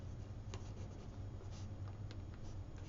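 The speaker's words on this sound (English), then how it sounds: "I'm just going to write" A pen scratches steadily across paper in quiet surroundings, a soft, continuous rubbing of short strokes that stays close and faint, with no voice over it.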